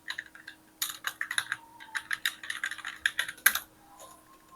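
Computer keyboard keys tapped in quick, uneven bursts, with repeated backspace presses, close and clear in a quiet room.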